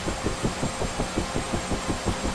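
UH-1H Huey helicopter engine running up in the DCS flight sim, a steady low whine with rhythmic rotor thumps beating evenly about five times per second, moderately quiet.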